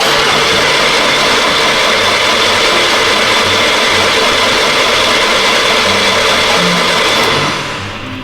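A Porsche Macan engine with water damage, mid-rebuild with coil packs removed, cranking over steadily for several seconds as a loud, continuous, dense whirring drone that fades slightly at the end.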